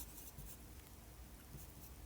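Pencil writing numbers on a math worksheet, quiet scratchy strokes in short bursts, close and faint.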